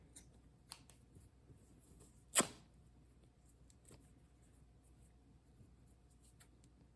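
Scissors give a single sharp snip while cutting fabric from a sample book. It is a quiet, brief cut in an otherwise calm room with faint handling noise.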